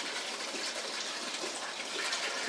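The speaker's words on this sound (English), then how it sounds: "So what we're going to do is dump the dirty water up in here, okay?" Dirty water pours into the top reservoir of a six-liter Membrane Solutions gravity water filter, a continuous soft gushing splash that holds steady for a few seconds, with no talking.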